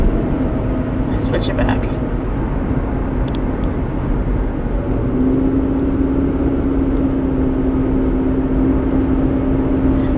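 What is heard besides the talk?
vibrating noise of a 2010 Toyota Rav4 while driving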